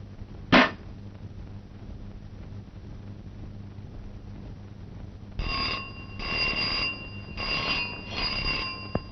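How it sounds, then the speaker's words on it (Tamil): A hand bell rings in a short burst near the start, then a longer stretch of repeated ringing, with room hum underneath in an indoor office setting where a telephone is expected. "நான் தான் மணி அடிச்சேன், டெலிபோன் அடிக்கல"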